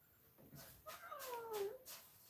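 A pet cat named Peter B meows in a drawn-out, rising and falling call, close to the mic in a quiet room, with faint rustling around it.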